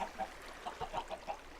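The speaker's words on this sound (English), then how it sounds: "Ah, there's chickens down there. That's what's making all the ruckus." Chickens clucking in a Minecraft FTB modpack farm, a quiet scattered run of short clucks at low level with no talk over them.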